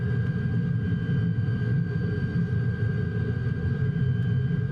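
A De Havilland Vampire jet fighter in Microsoft Flight Simulator 2020 produces a steady, loud engine rumble with a high whining tone running through it, unbroken for the whole stretch with no talk.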